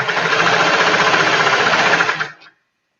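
A sewing machine stitching a stretched cuff and sweater, three layers at once, running as a fast steady mechanical whir for about two seconds before winding down and stopping, loud and close.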